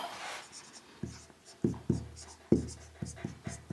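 Marker strokes on a board while a triangle is drawn, a series of sharp taps and short scratchy squeaks in an uneven rhythm, close and clear.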